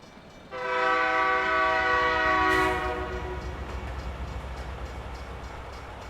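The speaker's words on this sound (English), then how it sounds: "Stupid train." A passing freight train carrying shipping containers sounds a loud, sustained multi-tone horn blast for about two seconds, then rumbles steadily on under fainter horn echoes, heard from a truck nearby.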